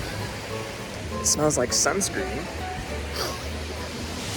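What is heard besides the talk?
ocean waves crashing on Waikiki beach, Honolulu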